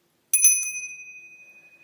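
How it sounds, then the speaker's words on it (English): A small ritual altar bell bearing a triple moon sign is struck once, giving a bright, clear ring that hangs and slowly fades, alone in silence. "This is a bell that I bought."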